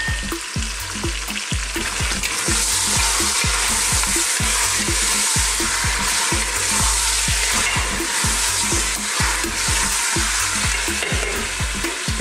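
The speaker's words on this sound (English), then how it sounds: "We need to seal that lamb and brown the lamb." Lamb and chopped garlic sizzle loudly in a pot, with a steady frying hiss broken by regular scraping thuds from a spoon stirring through the meat.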